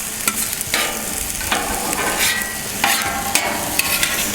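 Scallions and rice fry on a Camp Chef FTG600 flat top griddle for beef fried rice, a constant loud sizzle broken by repeated sharp spatula scrapes and taps against the steel surface.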